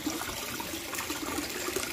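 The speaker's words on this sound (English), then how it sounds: "It's hard to tell now that the water's splashing around out of here." Water splashes and churns steadily inside a hydroponic RDWC system, a constant close watery rush with no other sounds.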